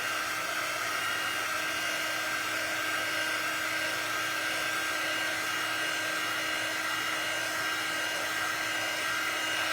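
A hair dryer blows steadily on paint, drying it in a continuous loud, even whine with a constant pitch throughout, no voices, and a narrow tonal hum sitting over a broad rush of airflow.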